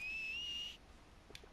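A Red Dead Redemption 2 character gives a single sustained, clear high-pitched whistle that holds a steady tone for under a second, then cuts off into near silence.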